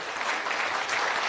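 Audience applause at a political rally fills the moment, a steady dense clapping from a crowd, fairly loud and close, with no pauses.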